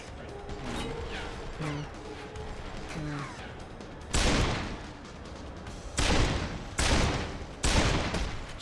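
Deus Ex: Human Revolution gunfire booms in four loud, close shots spaced about a second apart, after quieter in-game chimes and mechanical sounds.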